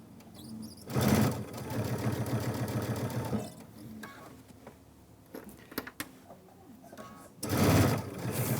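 A sewing machine backstitching a ruffled zipper pouch for a Christmas Club project: bursts of rapid mechanical stitching start and stop, with quieter handling noise and a voice in between.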